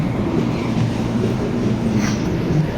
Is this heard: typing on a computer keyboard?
no